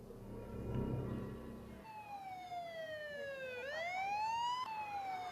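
A police siren wails from a vehicle out on the road, starting with low rumbling noise and then a rising and falling electronic tone that sweeps up and down, fairly clear and steady, with no voices over it.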